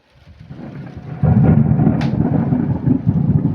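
Loud, close thunder from a lightning strike during a thunderstorm: a sudden heavy rumble that swells and rolls on steadily for several seconds, with rain in the background.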